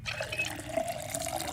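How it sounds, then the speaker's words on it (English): Water running into a water bottle in the video game Project Zomboid, a brief steady gurgling fill with a faint rising tone, moderately quiet. "Fill my water bottle."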